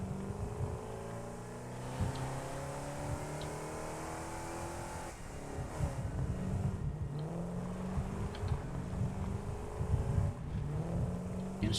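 A vehicle engine drones and revs continuously as a truck drives in the factory-building game Satisfactory, pitch rising and falling with acceleration, fairly close and steady without speech.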